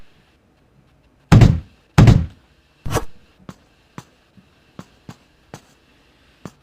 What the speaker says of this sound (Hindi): ओके, मैं यहाँ पे गन फेंक करके लगातार आवाज़ कर रहा हूँ।